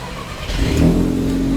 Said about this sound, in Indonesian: Kita mau coba untuk nyalain mobil ini. Kita dengerin suaranya.